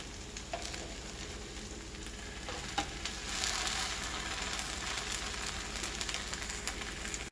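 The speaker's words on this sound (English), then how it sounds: "I'm trying to use 2 spatulas now to flip the other half over" Renaissance-style pancake sizzling in a hot pan while two spatulas work under it to flip it, a steady close frying hiss with brief scraping clicks, quiet and unbroken.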